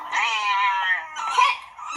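A cat in a TV show meows in two drawn-out, wavering cries, the first long and loud, the second shorter and rising, with no talk over them.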